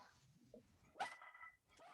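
A pet dog barks once sharply near the microphone during a home video call for a school board meeting, with a brief whimpering yip trailing after against a quiet room.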